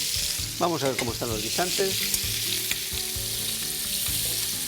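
Pork loin searing in a hot pan, a steady close sizzle of frying running throughout, with a voice speaking briefly over it partway through.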